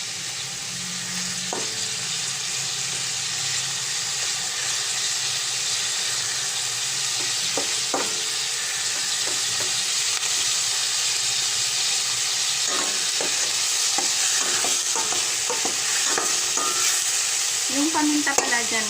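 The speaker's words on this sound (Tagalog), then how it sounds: "So, antayin na lang natin na mag-brown yung karne guys. Lakasan ko ng konti yung apoy." Ground pork browning in a pan over raised heat gives a steady, loud sizzle and hiss, with occasional scrapes and taps of stirring scattered throughout.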